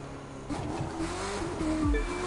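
A race car engine hums and revs in The Crew 2 during a Las Vegas street race, steady sustained engine tones with rising pitch changes and a brief tire squeal near the end, moderately loud.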